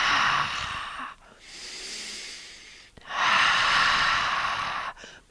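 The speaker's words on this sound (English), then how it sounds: "Inhale through the nose." A person draws two long, audible breaths in through the nose during a vata vinyasa yoga practice, each a soft airy rush lasting a couple of seconds, close and alone with a quiet pause between.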